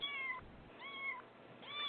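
A cat meows close by three times in a steady rhythm, each call drawn out and separated by short pauses, with thin, band-limited sound and no talking.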